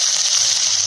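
Spices, chopped onion and bay leaf hit hot oil for a tempering, giving a loud, dense, even hiss of frying, close up and with no talking.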